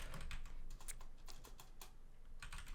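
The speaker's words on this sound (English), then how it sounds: "What are you typing there?" Quiet, rapid keystrokes clatter on a computer keyboard in uneven bursts, soft and close, with a low background hum and no voices.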